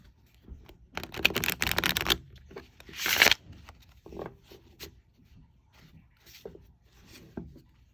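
Riffle shuffling of a Lo Scarabeo Crystal Tarot deck, close and crisp, with two long bursts of fluttering, riffling card edges followed by softer taps and slides of cards.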